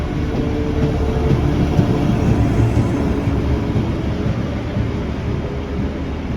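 High-speed train in France running from Toulouse to Paris, heard from inside as a loud, steady broadband rumble and roar with no talking.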